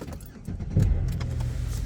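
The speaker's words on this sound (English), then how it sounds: "The winter time, you gotta let the car warm up" A car sits idling to warm up on a windy winter day, its engine giving a low steady hum beneath wind buffeting and a brief clunk, with no talking.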